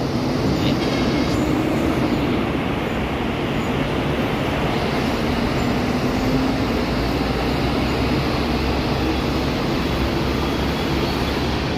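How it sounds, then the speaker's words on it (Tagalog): An LRT1 light rail train on the Cavite Extension near Asia World Station rolls past with a steady, loud broadband rumble and rushing noise that holds for about twelve seconds, with no clear rise or fade. "So ayan na po yung train na dadaan po"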